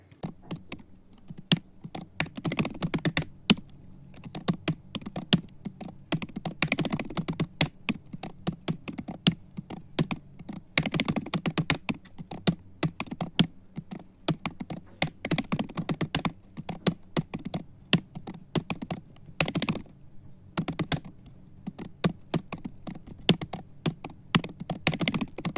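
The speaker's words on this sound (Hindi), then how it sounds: "ये हमने टाइप कर लिया H1 से लेके H6 तक" Steady typing on a computer keyboard while entering HTML code, quick close key clicks in uneven bursts with brief pauses, no talking.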